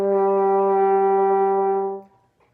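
A horn holds the note D in one steady, full, rich tone for about two seconds before cutting off, played alone and close.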